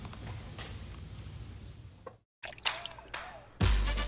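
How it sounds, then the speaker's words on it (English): Brandy poured into a drink mix, a steady liquid splash and trickle that stops briefly, then resumes with louder bursts of pouring near the end. "I'm going to pour in my brandy"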